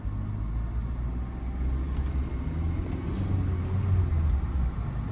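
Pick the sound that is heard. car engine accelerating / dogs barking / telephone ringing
car engine accelerating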